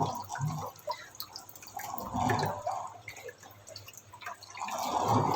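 Water trickles and drips as it flows out of a small orifice hole in a laboratory flow apparatus, close and fairly quiet, with irregular splashy bursts.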